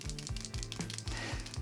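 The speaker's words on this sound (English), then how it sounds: "It's liquid, so I like to shake it up, make sure it's nice and well mixed." A liquid brow pen shaken rapidly to mix it, producing a quick regular series of soft rattling clicks, close and fairly quiet.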